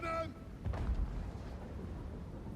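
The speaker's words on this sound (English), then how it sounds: "Cannon!" A cannon booms in a fantasy battle game with a deep low blast that rolls on beneath the surrounding clamor, and a brief voice is heard just before the shot.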